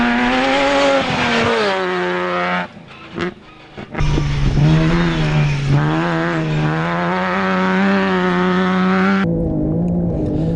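Classic Toyota Land Cruisers racing off-road in a desert endurance event, engines revving hard and loud with rising and falling pitch, a brief dip in noise mid-run, then sustained close roaring acceleration.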